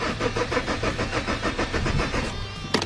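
A car with its injection warning light on cranks on a start attempt, the starter motor turning in a fast steady rhythm without catching, loud and close, ending with a brief clunk.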